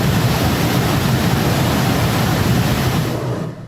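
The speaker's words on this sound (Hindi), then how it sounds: "पानी की तेजी से आपको अंदाजा होगा कितना भयावह मंजर रहा होगा" Rushing floodwater pouring through a flooded area where a vehicle is stuck, a loud, steady, close roar of churning water that never lets up and only eases slightly at the very end.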